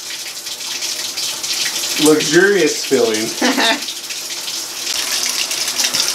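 Water gushes from a tap into a tub, supplied by an undersized Ecosmart Eco 11 electric tankless water heater. The flow makes a steady rushing stream throughout, and a voice briefly talks over it midway.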